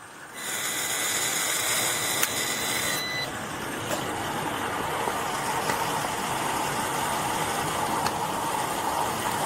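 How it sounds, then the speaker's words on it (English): A woman blows steadily into a police breathalyzer at a gas station. A continuous loud hiss is joined early by a high electronic tone that stops after a few seconds, with a faint idling engine behind. "All you're going to have to do is blow in it, and it's going to tell us your breath alcohol content."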